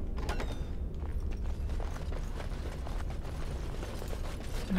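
Heavy door mechanism in the video game Dragon Age: Origins creaking open with grinding, ratcheting clunks over a low rumble, played alone at moderate volume.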